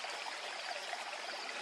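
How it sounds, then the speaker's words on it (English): Water flows steadily through a forest stream among large placed stones, a continuous faint rushing and trickling wash with no pauses or voices. "There's flowing water here"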